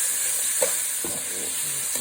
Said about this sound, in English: I'm going to add meat which is already tender. So I'm going to fry a little bit before I add other things.